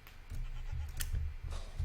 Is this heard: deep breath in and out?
no